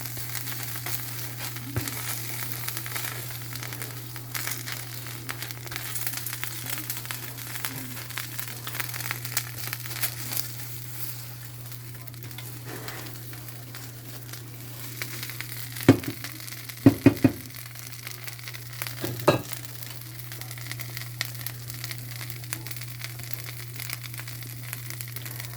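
A pepper grilled cheese with ham and extra cheese frying in melted cheese, giving a steady low sizzle and crackle with a constant hum underneath and a few louder crinkling bursts near the end.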